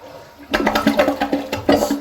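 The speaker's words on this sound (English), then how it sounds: "And even on a longer flush, let's just try an example right now." A longer flush of a new Kohler Wellworth toilet: a sudden loud rush of water starting after a brief quiet moment, then a steady churning, gurgling wash that continues to the end.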